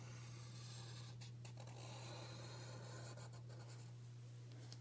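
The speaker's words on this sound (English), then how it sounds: "we're going to draw that in the center of our paper. I'm going to choose a circle" A pen or pencil scratches a circle onto paper in a quiet room, a soft continuous rubbing stroke with a few brief pauses, close and faint over a steady low electrical hum.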